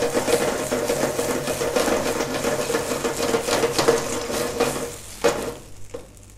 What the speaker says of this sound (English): That's what they call flambe